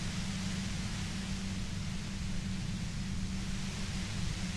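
Steady, unbroken white-noise hiss from the video game Disco Elysium, with a low rumbling band beneath, holding at an even level throughout with no talking.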